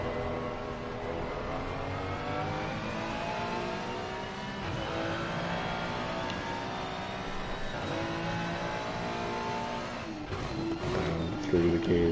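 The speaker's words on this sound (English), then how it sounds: "Through the gears for the Ferrari of Hall." Ferrari GT3 race car in Assetto Corsa Competizione at Zandvoort, its engine steadily revving and climbing through the gears at close range, with an excited commentary voice running over it throughout.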